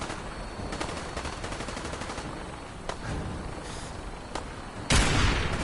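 Rapid bursts of automatic gunfire in the video game Fallout 4, played on PS4 in modded survival mode, crackle steadily for several seconds before a louder, sharper blast near the end.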